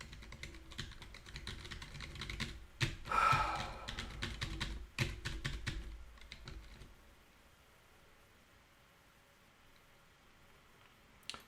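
Keys clatter on a computer keyboard in bursts of quick presses, close and fairly quiet, over a steady background hum. The typing thins out and stops near the end.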